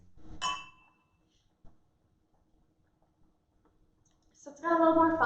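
Wine glasses clink together in a toast, a brief bright chime followed by near silence, with speech starting at the end.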